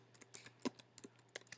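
Typing on a computer keyboard, a dozen or so quiet, irregular key clicks close by in a calm room.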